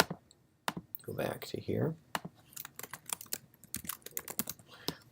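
Rapid clicking of computer keyboard keys in short irregular bursts, close and fairly quiet, with a person speaking briefly over the typing.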